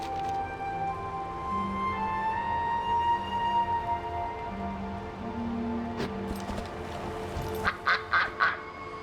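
A duck in a fantasy video game quacks a few times over a soft layered musical score, the final quacks coming in a short, rhythmic cluster near the end; no talking.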